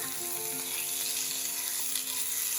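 Filet mignon sears in a frying pan with a steady, dense sizzle of hot fat that holds at an even level throughout, with no voices over it.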